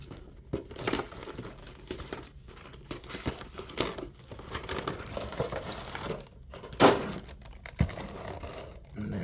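Figure packaging being opened by hand, with close plastic crinkling and scattered rustles building to a few sharp tearing rips of tape, quiet and without speech.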